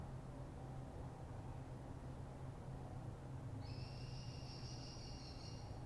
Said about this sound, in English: That's a bird.